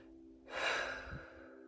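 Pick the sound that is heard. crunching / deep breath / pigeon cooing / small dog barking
deep breath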